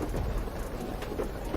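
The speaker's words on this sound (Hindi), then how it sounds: "तभी बहुत तेज बारिश शुरू हो जाती है" Heavy rain pours down in a dense, steady roar with low rumbling, filling the scene loudly and continuously without letup.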